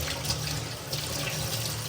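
Tap water running steadily into a sink while coriander is washed in a village kitchen, a continuous close, full-bodied splashing stream with no pauses.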